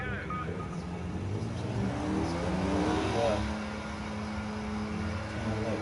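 A race car engine in the Project Cars 2 video game drones steadily through a lap, a continuous close, loud whine with gentle rises in pitch and no pauses.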